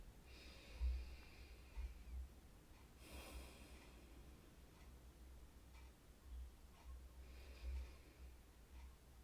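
A person takes a couple of slow, deep breaths, soft and close, each inhale and exhale drawn out over several seconds with quiet pauses between.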